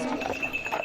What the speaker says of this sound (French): Mais l'heure est à la parade des chevaux